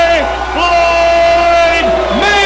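Boxing arena crowd cheers at a Floyd Mayweather fight, a dense, loud roar sitting under a ring announcer's long, drawn-out calling voice that dominates the moment.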